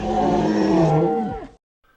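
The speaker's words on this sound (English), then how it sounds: "A tremendous roar!" A giant dinosaur in a children's story lets out one loud, long, deep roar lasting about a second and a half, then falling off abruptly into silence.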